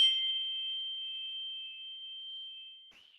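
A single chime rings once to close a yoga session. The clear, soft tone sustains and slowly fades over about three seconds, with a faint second touch near the end, and no voices.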